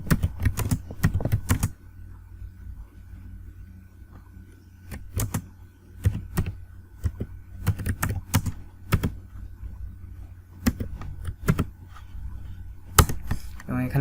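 HTML code being typed on a computer keyboard, close-up bursts of rapid key clicks broken by short pauses, with a quiet background between the clusters.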